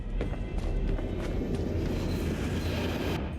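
A train rumbles past in the video game Fallout: London, a dense, steady roar with faint rattling on top, loud and close for the whole stretch.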